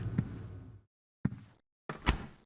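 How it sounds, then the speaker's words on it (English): A door in the horror game Silent Hill 4: The Room swinging shut on its own, heard as a few separate dull thuds and knocks with short silent gaps between them, close and moderately loud. "as I walked away, it automatically closed the door"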